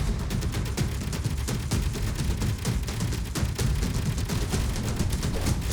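Rapid automatic gunfire in the Space Engineers video game: a long, loud burst of sharp, evenly spaced shots over a heavy low rumble, continuing without pause.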